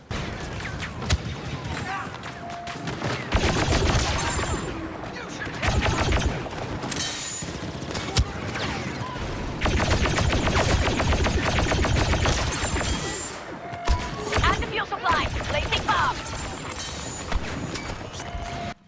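Rapid bursts of SE-44C blaster fire in a Star Wars shooter, loud repeated volleys separated by short pauses, mixed with clattering impacts and battle noise.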